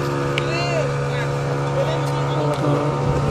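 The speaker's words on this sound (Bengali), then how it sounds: "আর এটা হচ্ছে স্পিড বোট।" A speedboat motors over the water with a steady engine drone carrying harmonic hum, while wind noise and a few faint whistling and passing sounds come and go around it.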